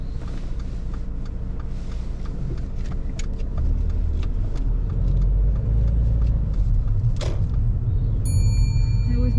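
A car pulls away during a driving lesson, its engine rumble steady and close inside the cabin, rising slightly as it moves off, with a brief click and a soft chime near the end.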